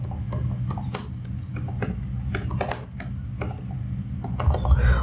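Typing on a computer keyboard into the Chrome search bar, a quick irregular patter of close, crisp key clicks that runs on alone.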